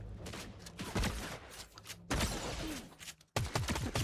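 Gunfire from Fortnite gameplay, including a cube rifle: bursts of rapid shots that come in loud clusters with brief gaps between them, close and dense throughout.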